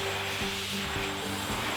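A high-flow air blower driven by a big V6 engine blasts a steady, loud roar of rushing air over a low engine hum inside a barn, unbroken and close by.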